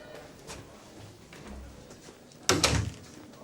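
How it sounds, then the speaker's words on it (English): A door thuds shut once, close and fairly loud, after a few seconds of quiet room tone in an office. "Close the door."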